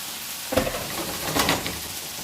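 Potatoes frying slowly in a pan for breakfast burritos, a steady close sizzle with a couple of brief bursts of crackle and stirring.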